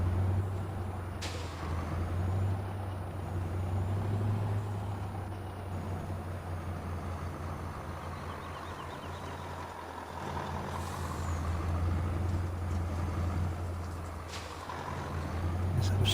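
Truck in Farming Simulator 19 reversing: a low engine rumble runs steadily throughout, with air-brake hisses and faint beeps surfacing now and then, moderately loud and without talk.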